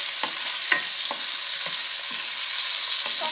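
Pork browning in a frying pan alongside garlic, ginger, tomato and onion, a steady loud sizzle with a few sharp crackles and scraping stirs spread through, no talking.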